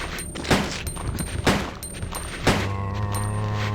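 A pump-action shotgun fires in Resident Evil 2 on PlayStation, with three sharp booming blasts spaced about a second apart and a low droning rumble settling in after the last shot.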